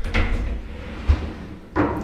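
A house door opened and closed nearby, with a soft thud around the middle and another short bump near the end, set against faint room noise.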